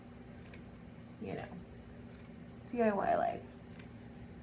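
Scissors snip through a sequin-covered tablecloth in two close bursts, the second longer and louder with a crisp crunchy rasp, while a person talks quietly underneath.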